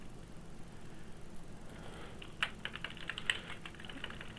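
Quiet clicking on a computer keyboard, a short irregular run of close keystrokes over faint background hiss, starting about halfway through.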